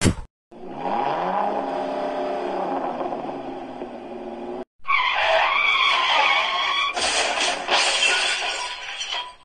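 Toy cars racing around a plastic track circuit make a loud, continuous whirring and skidding rattle that runs steadily, breaks off briefly, then returns with a busier, clattering texture.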